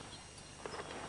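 Horse hooves clip-clopping at a walk, a few soft irregular hoof strikes over a steady outdoor background hiss, fairly faint and moderately distant, with no talk.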